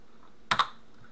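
Two quick, crisp keystrokes on a computer keyboard, close and clear in a quiet room, with nothing else around them.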